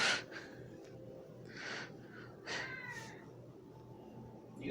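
A house cat gives several short meows close by, drawn-out cries with pauses between them, over a quiet room.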